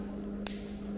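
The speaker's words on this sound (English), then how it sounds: "Flip that up and it should" A plastic connector latch on the winch wiring harness of a 2021 Can-Am Maverick Trail snaps shut with a single short, sharp click over a steady hum.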